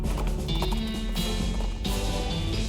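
Cart horse hooves in the West of Loathing video game clop in a steady, busy rhythm, loud and close, with no voices over them.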